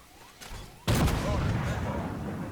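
Tank cannon fire in the video game Armored Warfare: a soft rumble, then one sudden loud blast that rolls on into a sustained booming decay.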